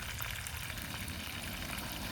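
Pomfret and other fish sizzling in a pan over a gas flame, a steady crackling fry with dense spitting texture, close and moderately loud, no voices.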